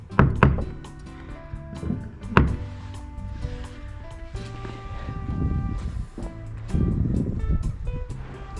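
Heavy knocks of a door knocker on the main door of a house with porticoes in Cuenca de Campos, Tierra de Campos: a few sharp thuds ring out near and loud, then give way to a low hum and background murmur.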